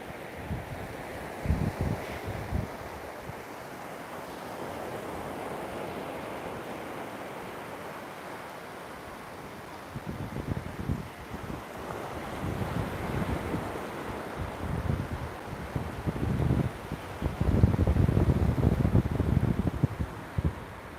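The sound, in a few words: ocean waves and wind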